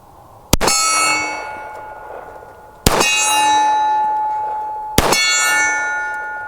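Three metallic clangs as shots from an S&W Performance Center 1911 pistol strike a big steel silhouette target, each ring sustaining and slowly decaying, spaced about two seconds apart and heard from a distance.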